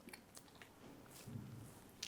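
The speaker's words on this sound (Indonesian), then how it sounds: "Oke, ntar ngunyah dulu." Someone chewing food close to the mic, with soft wet crunching and squishing bites at an irregular pace and a sharper click near the end.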